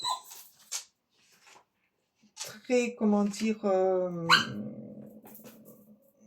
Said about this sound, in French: C'est parce que j'ai ma chienne à côté qui veut sortir